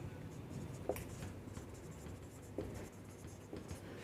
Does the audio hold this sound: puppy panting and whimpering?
no